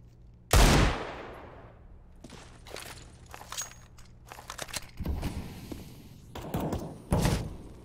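A Desert Eagle pistol fires in Counter-Strike on the Mirage map: one loud, sharp shot with a trailing decay, followed by quieter game clatter and footstep-like shuffles, plus another louder burst near the end.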